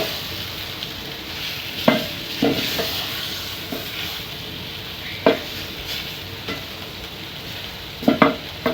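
Nduma sizzles in a frying pan with a steady crackle while a spoon stirs it, scraping and knocking against the pan at irregular moments, close and clear with no talking.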